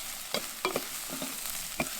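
Risotto rice toasting in butter and oil in a heavy Italian risotto pan: a steady bright sizzle hisses continuously, with a few scraping stirs and light clicks from the spoon moving the grains, and no voices.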